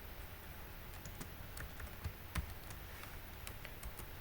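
Steady clicking of a computer keyboard as HTML code is typed, close and fairly quiet, with keystrokes at an uneven rhythm and one slightly heavier tap partway through.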